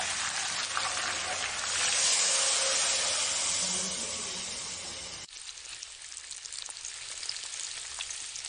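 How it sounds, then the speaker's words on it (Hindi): Millet-flour kebabs sizzle in hot oil, a steady bright frying hiss that swells for a few seconds, then drops to a quieter crackle after a sudden cut. "उसके बाद फिर हम एक और बैच कर लेंगे फ्राई।"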